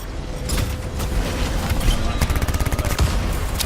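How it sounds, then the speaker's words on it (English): Weapon fire in the video game Destiny 2, a rapid rhythmic run of close gunshots over busy game noise, quickening into a steady chattering burst near the end. "The only reason I'm using this little pistol is like this."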